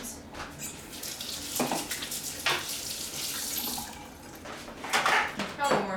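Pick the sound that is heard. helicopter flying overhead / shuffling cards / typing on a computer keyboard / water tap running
water tap running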